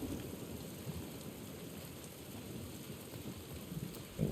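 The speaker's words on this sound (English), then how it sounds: "I like the controller vibrating when it rumbles with thunder." Low thunder rumbles beneath steady rain in The Last of Us Part 1, a faint, continuous storm ambience with a slight swell near the end and no one talking.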